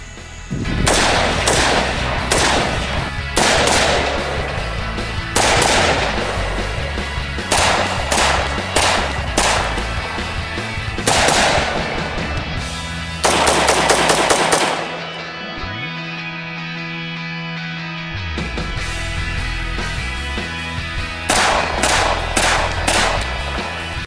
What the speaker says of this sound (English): Oh crap, John's shooting.